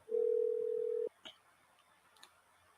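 A call-in line's telephone tone sounds as a single steady electronic beep of about one second, clear and close, followed by a couple of faint clicks in near silence.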